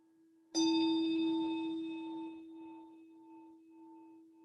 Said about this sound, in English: I have one of my favorite singing bowls here, and it's in the key of E, and it connects with your solar plexus